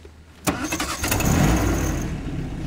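A 1951 MG TD convertible's engine cranks and catches with a sharp onset, then settles into a steady, close idle rumble.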